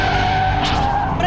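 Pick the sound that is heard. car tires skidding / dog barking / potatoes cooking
car tires skidding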